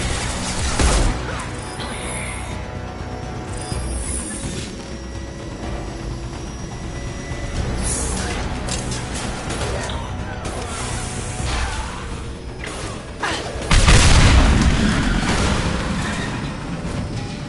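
Tanks blowing up in Mass Effect 2, with heavy crashing blasts at the start and a louder burst near the end over a steady rumbling din, and a little speech mixed in.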